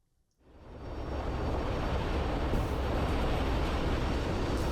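A Hercules C-130 military transport of the Indonesian Air Force rises quickly out of silence into a loud, constant wide roar of its engines that continues, unbroken and close, to the end.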